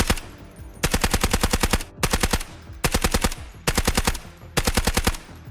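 Suppressed SMG45 submachine gun in the video game Delta Force fires in five sustained full-auto bursts, each about a second long with short pauses between, rapid evenly spaced shots, loud and close.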